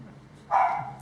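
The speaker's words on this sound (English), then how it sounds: "Whenever the dog starts barking, do I stop or do I keep going?" A single short dog bark, sharp and moderately close, comes after a brief quiet lead-in.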